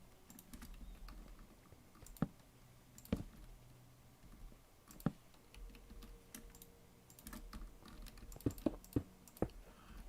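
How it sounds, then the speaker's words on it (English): Loud computer keyboard typing, close-up clacks in scattered bursts with a few sharper key strikes standing out over a soft background hum. "I need to get a quieter keyboard."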